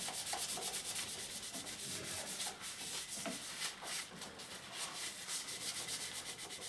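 A black mark is rubbed off an old roadside-salvaged lamp with a cloth, a continuous close scrubbing swish in quick, even back-and-forth strokes, fairly quiet.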